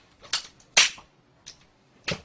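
An ear-piercing gun fires in four sharp, loud snaps spaced unevenly across two seconds, each a crisp click-bang close by, with quiet gaps between and no voices.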